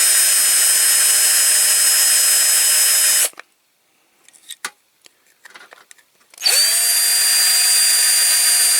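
A small power drill bores into a Spot On UD milk float scale model during restoration, running with a loud steady whine, stopping for a few seconds of faint handling clicks, then spinning up again.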